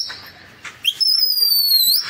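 A pigeon keeper's whistle at a fancy pigeon loft in Hyderabad shrills in a long, steady, piercing blast lasting over a second, following a few brief soft chirps and rustles, loud and close.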